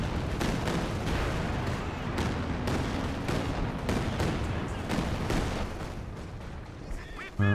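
Calliope rocket barrage and gunfire in a strategy war video game: a dense, continuous roar of rapid overlapping blasts and shots, loud and close, rolling on without pause before easing slightly at the end.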